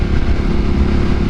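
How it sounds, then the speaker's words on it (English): A 2025 Ducati Panigale V2 engine drones steadily while riding, a loud, close, low rumble with a quick smooth auto-blip on the shift and no voice over it. "Man, this auto blip is nice too, really smooth."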